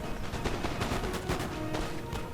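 Musket volleys crackle from massed infantry in Napoleon: Total War, a France versus Britain multiplayer battle, dense overlapping gunfire rattling continuously at moderate loudness with no talk.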